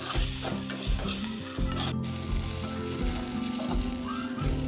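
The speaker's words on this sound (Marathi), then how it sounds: "आता भिजत घातलेले पोहे आणि शेंगदाणे टाकूया, ते तळून घेतलेले, आणि छान परतून घेऊया." Soaked poha with fried peanuts being stir-fried in a pan for a breakfast dish: loud, close sizzling with repeated scraping stirs of a spatula against the pan, continuous throughout with no voices.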